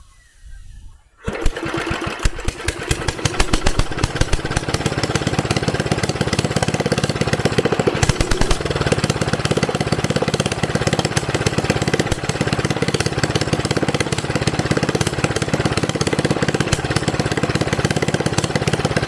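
A ride-on lawn mower tractor engine with a homemade head gasket starts after a short quiet moment, then runs loud and steady close by, its rough rapid firing broken by occasional sharp backfire cracks.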